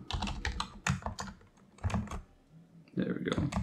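Coding on a computer keyboard, with bursts of rapid key clicks close to the mic, pausing briefly between runs of typing and picking up again at the end.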